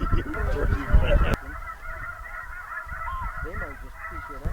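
Geese honking while hunters wait in a goose blind, a loud burst of overlapping honks up close, then a quieter stretch with scattered calls from birds coming in low.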